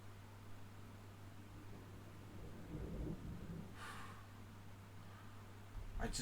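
Thunder rumbling outdoors during a May thunderstorm, a low broad roll building and fading at moderate distance over a steady background hum.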